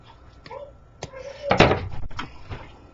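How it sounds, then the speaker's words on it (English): A door pushed shut in a room, a few light knocks and creaks building to one solid thump in the middle, followed by softer rattles, close and moderately loud with no speech. "shut my door, Michaela"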